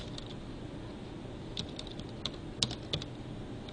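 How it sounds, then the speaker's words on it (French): Keys tapped on a computer keyboard while entering a Cisco router configuration command, a sparse run of light, quiet clicks with a few sharper strikes over a low background hum. "On va taper la commande"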